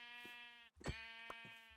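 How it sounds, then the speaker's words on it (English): Sheep bleating in Minecraft, a couple of short bright synthetic bleats close up against a quiet game background. "Oh, there's some sheep"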